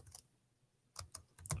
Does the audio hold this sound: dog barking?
no